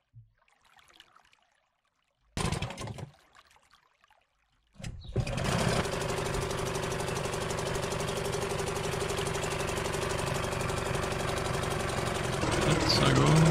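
A small boat motor in the game Martha Is Dead starts up after a few clunks and then runs steadily with a buzzing, even drone that holds loud and close to the end.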